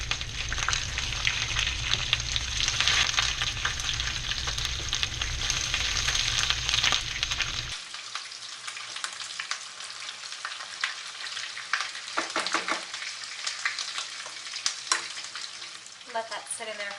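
Keto cod fritters frying in a pan, a dense hiss of sizzling oil for the first stretch, then a quieter, sparser crackle with a few sharp clicks and scrapes as cooking continues.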